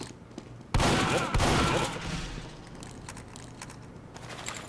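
Soldier's shotgun fired in a team-based shooter game: two sharp, loud blasts close together near the start, each followed by a decaying rumble, with quieter game noise continuing afterward.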